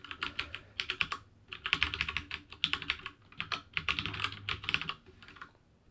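Username and password typed on a computer keyboard: quick bursts of close, crisp key clicks in uneven clusters with brief pauses between them, no voices.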